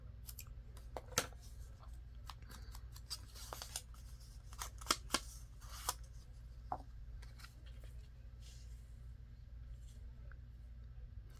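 Scissors snip through paper for a journal pocket insert, a series of crisp, irregular cuts and rustles spaced across a quiet room, close and fairly faint.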